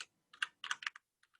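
Quick bursts of clicky keystrokes on a computer keyboard while coding in Python, a few rapid taps in clusters followed by a final heavier key press, close and isolated.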